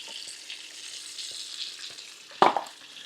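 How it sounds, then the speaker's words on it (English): Shrimp sizzle softly in a pan of cilantro lime cream sauce, a steady low crackle with a brief louder splash and clatter of stirring near the end. "Just want to get these shrimp cooking in that sauce."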